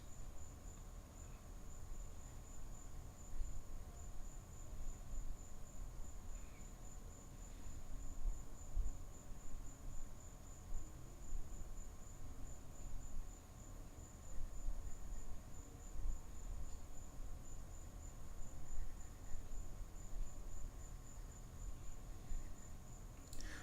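A lone cricket chirps steadily at night, a thin continuous high trill running unbroken beneath a low background hum, faint and constant throughout with no other sounds breaking in.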